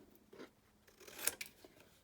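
Scissors pressed at a slight angle against chipboard to score it, giving a few soft scraping strokes and one sharper, close crunch, with no talking.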